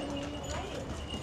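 Mule hooves clip-clop on a street in Santorini, a soft, steady patter of hoof taps under a busy wash of background noise and murmuring voices.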